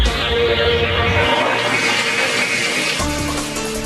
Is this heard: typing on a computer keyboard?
no